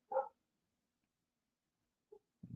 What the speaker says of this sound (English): Dogs are all agitated.